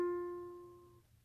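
A single plucked ukulele note, fingered at the first fret of the E string, rings out clearly and alone, then decays smoothly over about a second.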